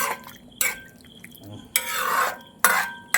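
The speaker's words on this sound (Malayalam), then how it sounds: "ഇനി അങ്ങോട്ട് ഇളക്കിക്ക്." Vegetable stew with fresh coconut oil being stirred in a pot in a Kerala-style kitchen, with a few bursts of spoon scraping and sloshing against the pot separated by quieter stretches of gentle bubbling.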